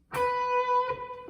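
A single electric guitar B note picked conventionally at the 12th fret rings out clear and sustained, with a steady harmonic tone that slowly fades and no voices present.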